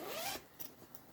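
A zipper on a stitched cross-stitch pouch is pulled in one quick rasping stroke, followed by a couple of faint ticks and rustles as it settles, close and quiet with no talking.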